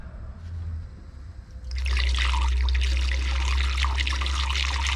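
Water pouring into the radiator of a John Deere 6600 tractor from a hose, starting as a quiet trickle and then surging into a loud, steady gushing rush that continues to the end.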